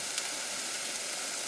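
Chickpeas roasting in a pan over a steady, close hiss of frying, a constant bright sizzle with no voices.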